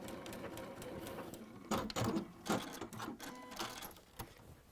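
A sewing machine stitches around textile fabric, its motor whirring in short bursts with pauses between runs, fairly quiet and close with no talking.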